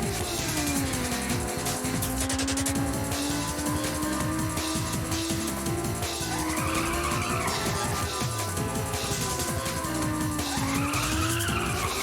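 Tires skid and squeal through left-hand drift corners in a racing video game, a continuous loud screech riding over steady engine drone, with rising squeal swells around the middle and end.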